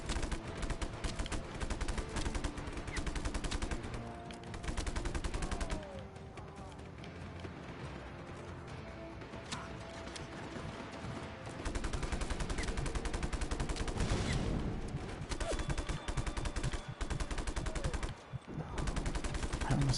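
Sustained gunfire in the video game Just Cause 3, with dense machine-gun bursts and crashing impacts that continue almost without a break, loud and close, with a player's voice occasionally underneath.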